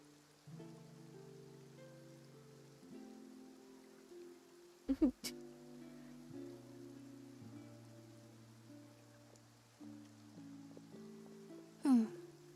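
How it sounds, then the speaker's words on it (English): Rain falls in the video game Genshin Impact as a steady, soft hiss beneath layered game music, with a couple of sharp effect sounds cutting in. "Looks like rain."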